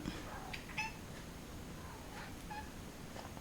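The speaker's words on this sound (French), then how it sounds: "Mon petit chat pour pas changer. Qui demande de l'attention toujours au moment là." Naya, a pet cat, meows several times for attention, short and fairly close over a soft background hiss.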